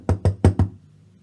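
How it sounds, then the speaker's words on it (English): Four firm knocks on a door in a quick, even series, close and solid, followed by quiet. "he sent one of his men to knock on Elisha's door"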